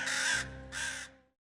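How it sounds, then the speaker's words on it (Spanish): Two harsh crow caws, one after the other with a short gap, loud and fairly close, the second fading out into silence. "los cuervos, sus fieles compañeros, fueron los primeros en llorarla"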